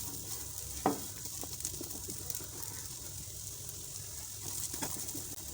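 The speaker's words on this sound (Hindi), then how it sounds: "मैं इसे लो फ्लेम पे पका रही हूँ ताकि अच्छी तरह से मसाला अंदर तक चला जाए इसके।" Spiced water chestnuts (singhara) frying in a pan over a low flame, a faint, even sizzle with a few stirring knocks, one sharper clack early on, and no one talking.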